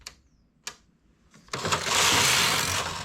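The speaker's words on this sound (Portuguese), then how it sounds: "A máquina vai selecionando alternada." A home knitting machine works its needles, selecting them alternately: a few sharp isolated clicks, then a loud, close, continuous mechanical whirring rattle as the carriage runs across the bed to the end, with no voices.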